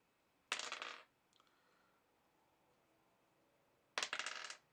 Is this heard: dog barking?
no